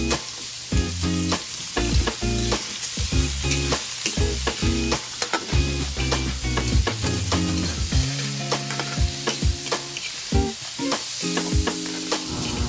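Ingredients for pinakbet with alamang fry in oil rendered from meat, a loud, close, continuous sizzle broken by repeated clanks and scrapes of stirring, with no voices.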